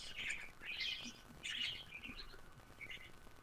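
Small birds chirp in short bright bursts, several quick tweets spaced across a few seconds, moderately distant over a faint room hum with no talking.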